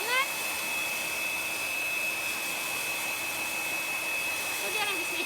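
A dryer blows steadily on chalk paste spread over a stuffed toy, a constant whirring hum with a high whine running throughout, moderately quiet.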